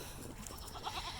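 A billy goat bleats on a farm, a few short wavering calls rising over steady outdoor background noise near the end of the moment.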